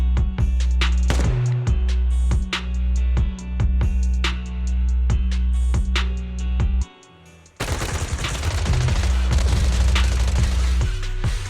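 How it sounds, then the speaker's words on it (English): Video game gunfire in Zenless Zone Zero, sustained suppressive marching fire of rapid repeated shots over a droning background, breaking off briefly and then resuming in a denser, noisier burst. "Gunfire? This pattern. Suppressive marching fire."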